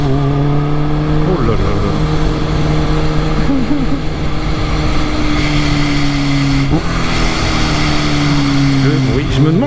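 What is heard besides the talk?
Kawasaki H2 280 hp motorcycle engine accelerating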